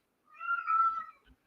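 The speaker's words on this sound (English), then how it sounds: "My cat's meowing." A pet cat lets out one drawn-out, crying meow, nearby and fairly quiet, followed by a faint short sound and no talking.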